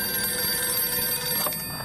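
Telephone rings steadily and fairly close, its bell-like tones sustained through the whole short moment with no one talking over it.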